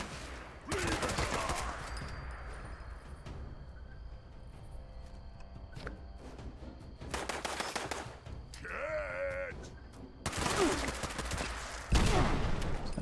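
Gunfire in the post-apocalyptic shooter game Fallout 76, coming as loud bursts of rapid shots in several separate volleys with quieter stretches of game ambience between them.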